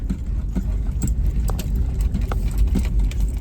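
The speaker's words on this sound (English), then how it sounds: "So right now we got a few big trucks coming by." Full-size pickup trucks, including a four-door Jeep with a truck bed, roll past outdoors with a steady low engine rumble and tire noise, moderately close, with scattered small clicks and rattles nearby.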